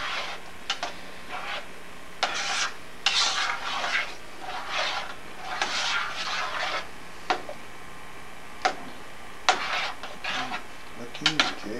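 Garlic being stirred into a simmering pot, with a series of scattered scraping and clinking strokes of utensil against pot, close and moderately loud, separated by short pauses.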